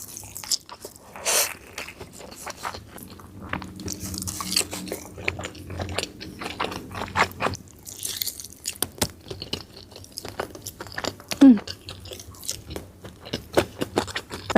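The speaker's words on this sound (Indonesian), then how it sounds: "Makan pakai nasi padang enak banget." Someone eats nasi padang with tender chicken close to the mic, with soft bites, wet squishy chewing and occasional crunches in an irregular rhythm, with a brief sharp scrape near the end.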